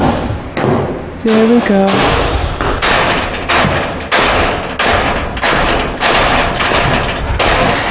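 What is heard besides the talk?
thoroughbred racehorse banging on the stall door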